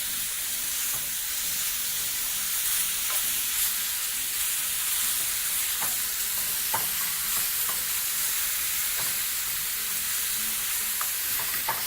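Pork ribs fry in a pan while being tossed continuously, a steady dense sizzle running throughout with faint scraping clicks as the pieces are stirred.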